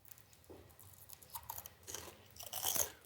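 Someone bites into puffed pickerel skin chips with onion dip and chews with soft crunches, close but faint, growing louder toward the end.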